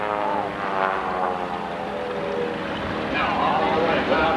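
An aerobatic propeller airplane flying an outside loop at an air race, its engine a steady loud drone with shifting pitch throughout, no talk over it.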